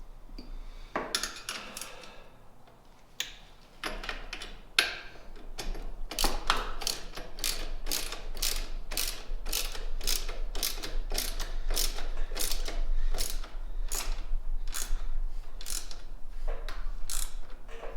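Rapid ratcheting clicks from a wrench tightening bolts on aftermarket engine guards fitted to a 2021 BMW R12 motorcycle, a long steady run of close, loud, evenly spaced clicks after a few scattered metallic knocks.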